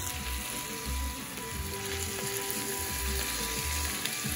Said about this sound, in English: we're just gonna saute our seafood just a few minutes